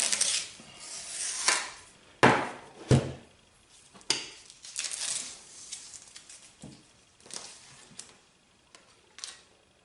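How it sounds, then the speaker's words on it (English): A metal survival kit tin is handled and its lid pried off: scattered scraping, rubbing and sharp metallic clicks, close and fairly quiet, with irregular bursts and gaps. "Right, so we take the lid off."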